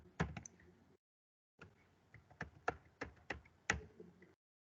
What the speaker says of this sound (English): this all details we are entering through keyboard